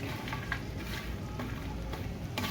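Toasted bread pieces being stirred into a hot spiced mixture in a pan for bread upma, a soft continuous sizzle under scraping spoon strokes, close and steady.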